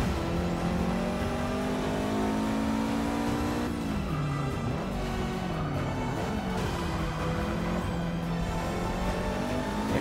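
A race car in Forza 6 accelerates hard and continuously, its engine droning loud and close as the revs climb, drop with a gear change, then climb again, with faint tire noise underneath.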